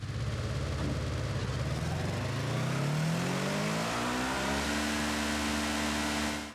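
A Polaris RZR Pro buggy with a stock single-gear CVT gearbox in Forza Horizon 5 revs loudly and steadily, its engine tone sweeping upward and then holding a sustained high drone before cutting off abruptly.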